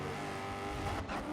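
A race car engine drones steadily at high revs in GRID 2019, with a tone that holds close and loud throughout and a brief dip near the end.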